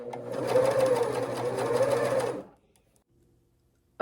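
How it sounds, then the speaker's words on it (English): An overlocker runs fast, stitching lace trim onto a sleeve in one continuous whirring burst of about two and a half seconds, close and loud, then stops into near silence. "then it gets attached to the main part of the sleeve using the overlocker"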